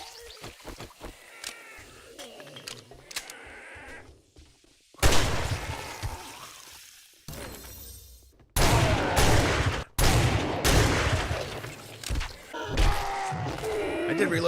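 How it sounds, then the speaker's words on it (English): Shotgun blasts in the survival zombie game 7 Days To Die burst out loud and sharp, several heavy shots in a row with pauses between them, mixed with speech and other game noises. "I did reload my shotgun"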